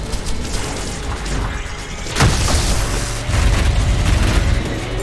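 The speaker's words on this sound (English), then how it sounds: "Hey, shotgun." A shotgun fires in the fast-paced video game ULTRAKILL, a single heavy boom cutting sharply through dense, continuous game noise and music that stays loud throughout.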